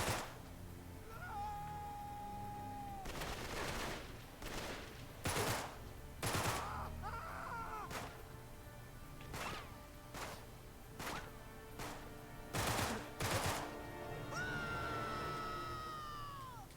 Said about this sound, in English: Please stop shooting me, random dudes who look like they fell out of Hitman.